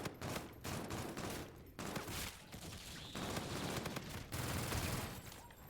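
Rapid bursts of gunfire from a weapon in a zombie shooter game, sharp repeated shots in clusters with short pauses between volleys, loud and close with no talking.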